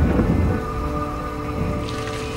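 A thunderstorm at a Space Shuttle launch site, with a low rumble of thunder fading under steady rain hiss, heard without speech.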